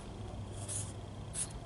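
Felt-tip marker squeaking faintly across trim pieces pulled from a flood-damaged 2004 Toyota Prius, with two brief rubbing strokes over a low background hum.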